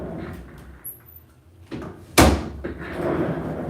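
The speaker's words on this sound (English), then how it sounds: "Let me close this door back here." An indoor door swung shut in a room with a broadcast setup, giving one sharp close with a thud and latch click midway, then quiet room tone.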